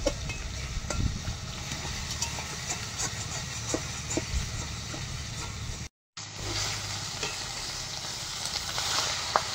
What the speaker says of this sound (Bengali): একসঙ্গে মাখিয়ে নেব ভালো করে।